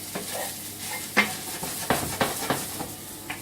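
Lea & Perrins sauce splashed into minced meat sizzling in a pan, a brief burst of frying hiss with several short sharp crackles and spits close by, no talking.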